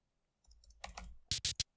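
Keys pressed on a computer keyboard while entering notes in Famitracker, a short cluster of distinct clicks that starts soft and ends with three sharper, louder taps, close and isolated.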